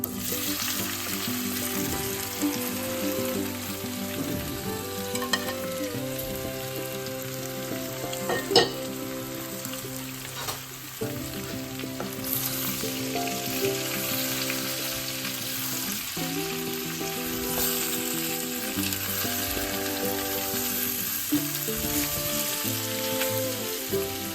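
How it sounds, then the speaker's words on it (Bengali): Boiled, cut potatoes stir-fried in a pan with cumin, hing and chili flakes for jeera aloo, giving a steady close sizzle and frying crackle with occasional spoon stirring scrapes throughout, no voices. "সেই সেদ্ধ করা কেটে রাখা আলুগুলো আমি এর মধ্যে দিয়ে নিয়ে ভালো মতো নাড়াচাড়া করে নেবো"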